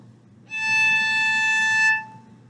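One sustained violin harmonic on the A string sounds bright and glassy, held evenly for around a second and a half before stopping cleanly, heard alone up close.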